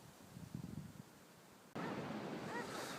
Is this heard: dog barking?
no